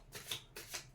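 Tarot cards are shuffled by hand in quick riffling bursts, three rustling strokes close by, with no voices.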